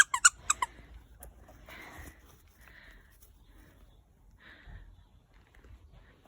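Madge's squeaky Rudolph the reindeer dog toy gives three or four quick squeaks at the start, then fades into quiet snuffling and faint movement nearby.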